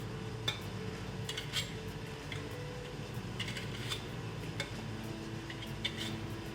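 Hot metal canning lids set onto jars of homemade garden marinara: a handful of light, sharp clinks and taps scattered across the clip, fairly quiet and close, over soft kitchen background noise.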